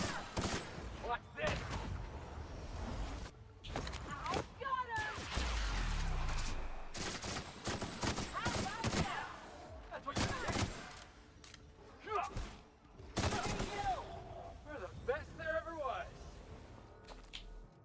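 Bursts of gunfire from a gun in The Outer Worlds crack out in repeated rapid volleys, loud and close, with heavy thumps and impacts scattered throughout and a voice talking over parts of the action.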